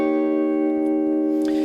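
Sustained guitar barre chord at the 8th fret from a song's rhythm guitar part, first finger barring the top four strings, ringing steadily and evenly with no talk.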